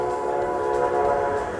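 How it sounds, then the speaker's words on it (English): A train rumbles past close by, a steady loud wash of rail noise with sustained horn-like tones held throughout, no talking. "We got a train going by."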